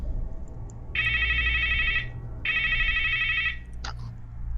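A telephone gives two clear electronic ring bursts, each about a second long, with a short gap between them. A faint click or knock follows at the end. The room is otherwise quiet.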